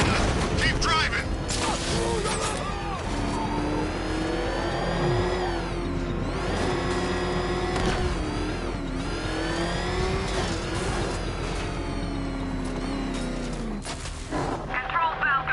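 A car driving in the Batman: Arkham City video game, with a steady loud engine drone that rises and falls in pitch as it revs and accelerates, plus mechanical clatter and bangs, under dialogue from game characters.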